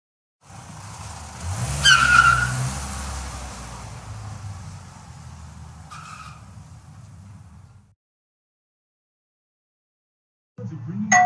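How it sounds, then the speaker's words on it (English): A cartoon car pulls away with a skidding tire squeal and revving engine, loud at first then fading over several seconds before silence. "Now I will go in the car."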